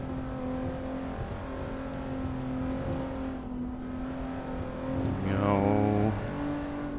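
Honda NSX engine in the Assetto Corsa driving game, a steady drone holding at cruising revs before rising sharply into a loud rev climb near the end, as if accelerating through a gear.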